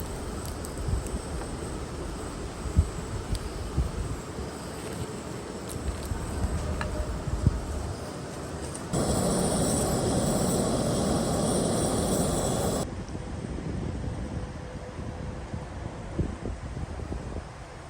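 Brisk, breezy autumn morning wind outdoors in the Blue Ridge Mountains beside a parked van, a steady rushing roar buffeting the microphone, with a louder gust surging for several seconds midway.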